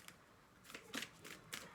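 A new deck of cards is shuffled close by, giving a few short, soft riffling bursts over a quiet background.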